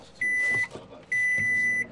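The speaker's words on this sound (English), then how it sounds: "To heat it up, there's even a microwave oven" Microwave oven at a military outpost heating food, giving two steady electronic beep tones, each about half a second, over a low background hum.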